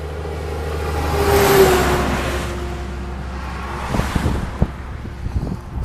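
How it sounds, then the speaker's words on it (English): A log truck passes along a roadside, rising to a loud, close rush of engine and tire roar with wind buffeting the microphone, then fading away into wind noise and a few scattered knocks. "Log truck."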